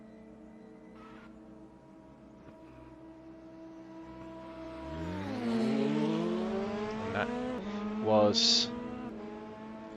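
DTM 92 race car in the Raceroom racing game practicing a start on a back straight, engine revving up through rising gear sweeps that swell mid-clip, with a brief tire-squeal-like burst near the end and faint talk over it.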